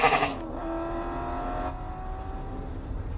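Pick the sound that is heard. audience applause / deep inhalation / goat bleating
goat bleating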